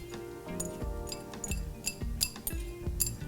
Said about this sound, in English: And then just keep stirring it